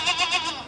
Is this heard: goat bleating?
yes